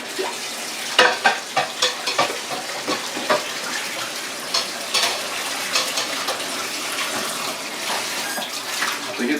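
Food bowls get washed under running water at a kitchen sink, a steady close rush of water with clinking and splashing bursts as the bowls are handled.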